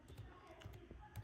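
Quick taps of typing on a computer keyboard at a PC, a few soft, close clicks in an irregular rhythm, faint and without speech.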